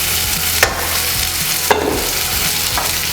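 Tomatoes blistering in a hot pan during a two-pan breakfast, a loud continuous sizzle broken by a few sharp stirring scrapes, close up and with no voices.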